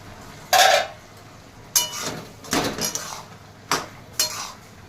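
A lid set onto a cooking pot while thor ghonto, a banana-stem curry with moong dal, is being made, giving several sharp metallic clinks and clatters of metal cookware at close range, with no talking.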